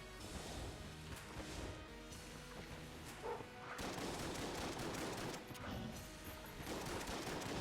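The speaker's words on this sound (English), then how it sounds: "It's time to go to the regular shotgun and just finish this off." Rapid shotgun blasts in the bullet-hell game Enter the Gungeon, a dense, loud run of overlapping shots and impacts with brief gaps between bursts, no talking.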